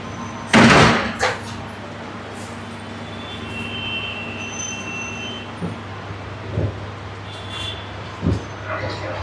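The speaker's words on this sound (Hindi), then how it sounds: "उसको बंद करो ना दरवाज़ा" A classroom door swings shut with one sharp, loud slam, followed by a fainter rattle, then quieter knocks over a steady background hum.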